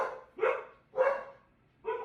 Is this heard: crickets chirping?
no